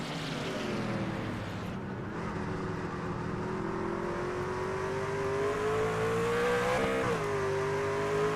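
Race trucks roar past down into turn 1 in a Knights Truck Series race, a loud sustained engine drone that slowly rises in pitch as the field passes, with a brief shift near the end.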